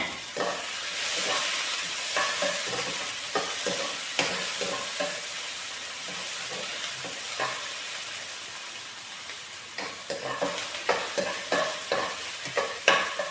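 Cumin seeds and onion stalks fry in hot oil with a steady sizzling hiss, broken by frequent scraping stirs and clinks of a utensil against the pan, up close with no talking.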